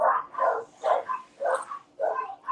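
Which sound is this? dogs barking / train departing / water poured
dogs barking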